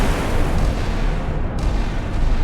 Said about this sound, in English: this guy's firing 4 guns off starboard, 4 guns off bow, his little 40 mils and his rocket launchers all in some random direction